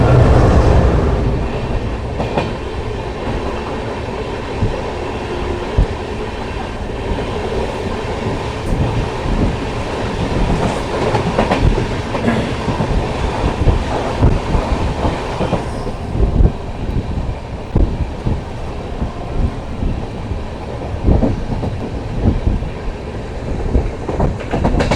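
The Amritsar–Ajmer Express rolls through Baddowal railway station, its wagons rumbling steadily and close with a continuous clatter of wheels on rails, the clack growing sharper at times and the noise holding loud throughout.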